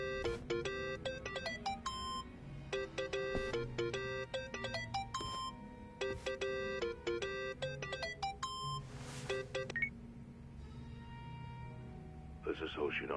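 A phone rings in the video game Yakuza: Like a Dragon, a repeating melodic electronic ringtone in rhythmic bursts with short pauses, over soft background game ambience.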